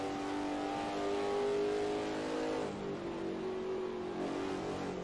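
A race car engine in Assetto Corsa on the 1955 Dundrod road course drones steadily at mid pitch, the revs lifting and dipping slightly as it drives through corners. The engine is heard alone.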